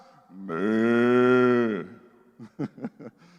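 A preacher's voice imitates an ox mooing: one long, sustained, droning moo lasting over a second, followed by a few short chuckling sounds.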